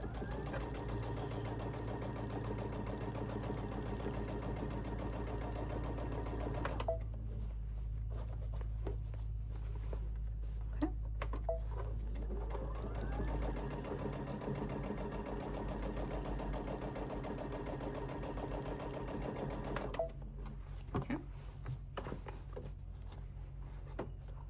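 A sewing machine with its embroidery arm removed, running on the free arm, gives a steady continuous mechanical whir and hum that shifts pitch a few times as the speed changes, with no pauses.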